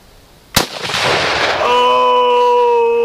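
A single loud rifle shot fires surplus military ammunition outdoors with a sharp crack. A broad rushing echo follows, then a sustained high ringing tone that lasts until the end.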